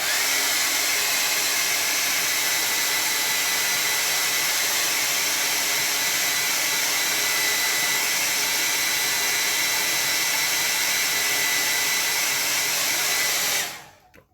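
A hair dryer blows continuously to dry watercolor paint on tinted Bockingford paper during a landscape painting session, a loud steady roar that runs for about fourteen seconds and then cuts off abruptly.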